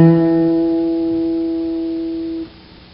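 A short guitar line on the fifth string, following fretted notes around the sixth and seventh frets: a single plucked note rings out clearly and sustains for about two seconds before being cut off, alone and close.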